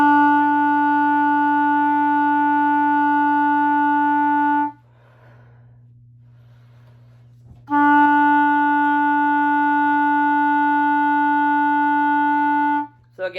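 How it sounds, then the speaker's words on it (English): A steady, clear clarinet tone on the note E held for several seconds, a pause, then the same note sustained again, played alone and fairly close. "When you play the E, it should sound like this."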